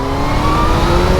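A supercharged Kawasaki Z H2 motorcycle engine revs steadily under light throttle in third gear, a close, continuous mid-pitched drone with a rising whine held throughout.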